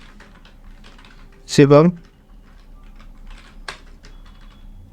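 Names are typed on a computer keyboard as a steady patter of soft key clicks, with one short spoken word heard over the typing.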